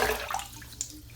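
Water splashed onto a face in preparation for a wet shave, a brief close watery slosh and drip lasting about a second, quiet and alone with no talking.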